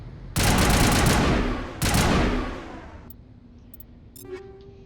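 Video game weapon fire in Mass Effect Legendary Edition: two loud, dense bursts of rapid gunfire, the first lasting over a second, followed by quieter scattered clicks and metallic game sounds.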